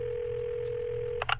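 A telephone call rings: a steady electronic tone holds for about a second, then breaks into short ringing bursts at the end, with a low hum underneath.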